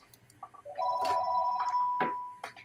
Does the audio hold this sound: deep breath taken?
no